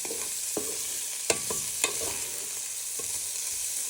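Prawns sizzle in hot oil with shallots and garlic for bruschetta prawns, a steady broadband frying hiss broken by a few sharp clinks and scrapes of tossing in the pan.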